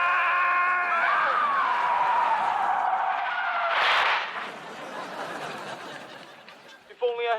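A car's tyres screech in a long, loud skid, rising into a sitcom-style crash burst of noise, followed by quieter rumble and a short rattling clatter at the end; the screech stands alone without voices.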